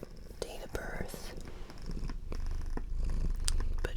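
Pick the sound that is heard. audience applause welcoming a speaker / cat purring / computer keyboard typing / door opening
cat purring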